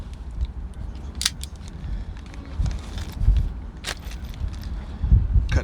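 A knife slices through the plastic packaging of a carburetor kit for a 1995 Mercury 2-stroke 5hp outboard, giving close, crinkly rasping cuts and crackles in irregular bursts.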